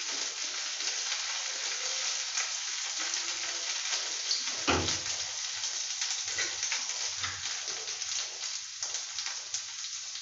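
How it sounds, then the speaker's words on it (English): Green chilies frying in a pan for a simple homemade recipe, giving a steady crackling sizzle throughout with a brief louder burst of spatter partway through; no one speaks. "The green chilies has to be cooked well"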